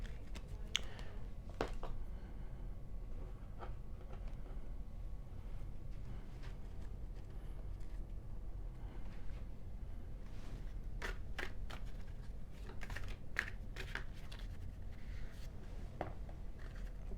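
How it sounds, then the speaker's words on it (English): Tarot and unicorn cards being shuffled in a quiet room, a soft, continuous papery riffling with scattered light flicks and taps running steadily throughout, close and low in level. "I want to go ahead and throw some tarot, and I'm also going to throw a unicorn card"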